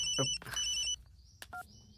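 A telephone rings with two bright electronic trills in quick succession, followed by a short softer chirp, heard close and alone in a quiet room during a Hindi film scene.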